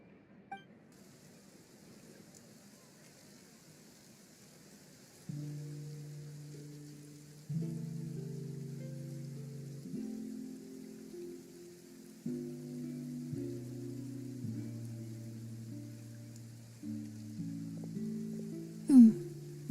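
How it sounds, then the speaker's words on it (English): Faint, steady rain falls in Fontaine in Genshin Impact, a soft hiss beneath gentle piano-like music notes. "Looks like rain."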